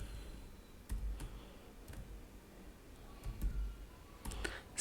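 Keys clatter on a computer keyboard while code is written, sparse quiet clicks and short bursts of typing spread across the stretch, close and faint with no voices.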